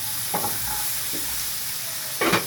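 Chicken and onions sizzling in a pan for pizza topping, a constant bright frying hiss broken by a few scraping stirs of a utensil, the loudest near the end.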